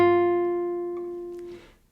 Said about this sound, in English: Now hold down the first fret on the first string and give it a pluck.